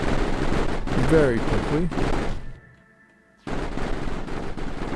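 Rapid gunfire rattles in bursts as enemy flares are shot down in the Mindustry video game, stopping abruptly, then resuming after a short near-silent gap, with a voice talking over parts of it.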